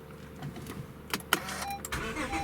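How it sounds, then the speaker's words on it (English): A 2016 Honda Accord Coupe with about 112,000 miles is started, with a few clicks and a brief cranking burst, then the engine catches and settles into a steady idle close by. "Let me go ahead and start the car up for you guys"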